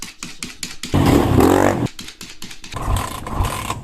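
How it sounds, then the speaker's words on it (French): A competition motorbike struggles to start, its engine catching and sputtering in short loud bursts between fits of cranking, with a voice talking over it. "Elle galère un peu à démarrer ta merde pour une bécane de compète là."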